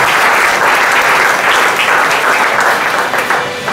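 A church congregation applauds loudly during a Sunday worship service, with dense sustained clapping that fades slightly at the end.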